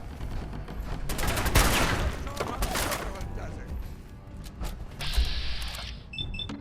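Video game gunfire from Fallout 4: bursts of rapid shots and impacts that come close and loud, followed by clicking and mechanical effects, with a voice talking over parts of it.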